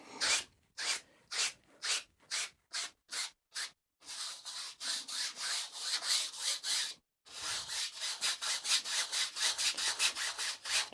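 Oil paint is scrubbed into canvas with a brush in a Middle-earth landscape painting, the strokes coming as quick rhythmic rasping rubs, first in short separated bursts and then in a faster continuous back-and-forth run, close and fairly quiet.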